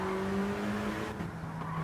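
Race car in Gran Turismo 7 braking into a corner, rolling through, then easing back onto the throttle. The steady engine drone shifts pitch partway through, with a hint of tire scrub, loud and close, no voices.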